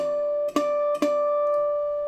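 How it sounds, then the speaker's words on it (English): Bell-like bouzouki harmonics at the 12th fret, in tune, ring clear and steady, struck twice in quick succession, with a sustained pure tone fading slowly. "On the 12th fret of the bouzouki, you just simply tap the top of the string and you get that sound."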